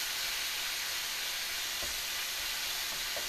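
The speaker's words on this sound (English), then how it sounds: "we want to cook this pork so that it's crispy" Marinated pork fries in a pan with a constant, dense sizzle and hiss, close and even in level, with only faint stirring knocks now and then.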